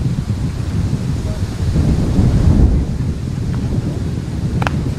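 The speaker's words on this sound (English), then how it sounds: "Wind picking up here." Gusty outdoor wind roars and buffets the microphone at a youth baseball game, a loud, continuous rumble that swells midway with no voices.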